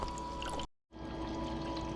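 Water runs steadily down a Miller gold recovery table, a soft continuous pouring trickle that cuts out briefly for a moment before resuming at the same gentle level.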